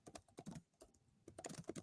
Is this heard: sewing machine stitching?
no